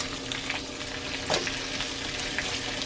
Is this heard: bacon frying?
yes